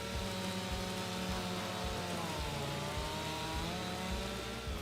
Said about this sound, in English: using the chainsaw